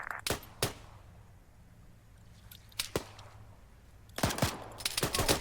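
Sharp gunshots from soldiers advancing in the Arma 3 video game: scattered single cracks at first, then a denser burst of rapid overlapping fire near the end, loud and close over low background rumble.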